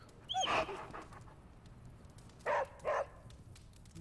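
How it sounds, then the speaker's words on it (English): A pet hellhound dog in the game Marvel's Midnight Suns pants in a few short, close bursts, one early and two together later, against a quiet background. "That's a hellhound. A little hellhound."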